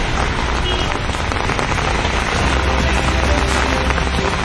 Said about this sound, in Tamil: எவ்வளவு நேரம் இந்த மழை நீடிப்பதற்கான வாய்ப்பு இருக்கு?